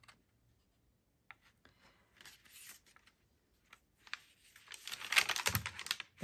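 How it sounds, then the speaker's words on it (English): A paper cutter slices through sheets of tea-dyed paper in short crisp strokes. Faint handling rustles come first, then a louder run of close slicing and crinkling near the end. "And I'm going to get my cutter again"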